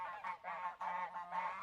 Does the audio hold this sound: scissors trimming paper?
no